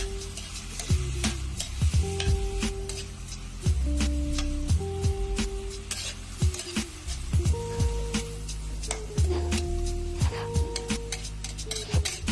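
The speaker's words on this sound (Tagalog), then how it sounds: "haluin para manuot yung lasa" Ginataang palaka, frog cooked in coconut milk, being stirred in a pan: steady sizzling with repeated scraping strokes of the spoon, close and fairly loud, with a stepping melodic tune running underneath.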